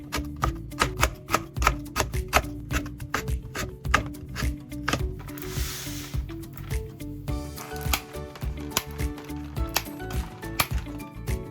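A knife finely chops carrots and green onions on a cutting board, with quick, sharp, closely spaced taps in an uneven rhythm, loud and close, continuing steadily with brief pauses.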